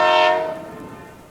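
A railway train's horn blares loudly on the track, a sustained tonal blast that slowly fades as the train approaches.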